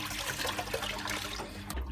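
Running tap water pours over a Henry vacuum filter being rinsed, a steady close splashing trickle with a low hum underneath and a brief clunk near the end.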